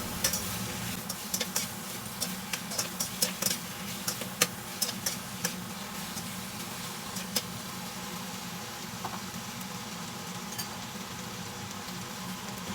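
Gai lan and Chinese sausage stir-fried in oil in a pan, heard as a steady low sizzle with scattered sharp ticks and clicks of a utensil stirring and tossing against the pan throughout.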